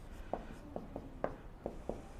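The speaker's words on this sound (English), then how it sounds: "let's write down the statement first" Pen or marker strokes writing out a geometry proof statement: a series of short, quiet scratching taps at an uneven pace, close by, with no talk.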